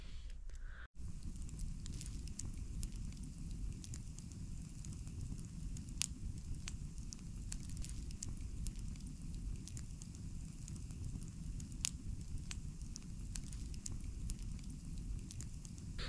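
Campfire burning outdoors on a cold night, a steady low rushing roar with scattered sharp crackles and pops throughout, fairly quiet and with no talking.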